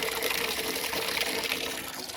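Gravity-fed water gushes steadily into a pig's water tank on a farm, a close, continuous splashing flow with no talking.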